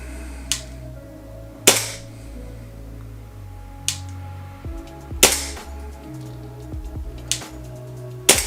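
Golden Eagle Speedsoft 1911 Deluxe Gold gas blowback airsoft pistol firing several sharp, separate shots at irregular intervals, each a crisp snap with a mechanical rattle, close and loud in a quiet room.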